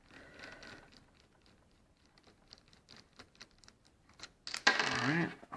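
Tiny metal screw from a Traxxas Stampede VXL 2WD RC truck dropping and skittering: a quiet patter of small ticks and clicks, then a brighter metallic jingle near the end.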